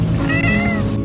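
A shelter cat lets out a single close, sweet meow, drawn out for about a second and heard alone.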